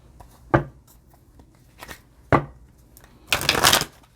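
A tarot deck, the Rebel deck, riffled and shuffled in a quiet room: two sharp card snaps followed by a longer, dense flurry of ruffling cards near the end, close and crisp with no talk.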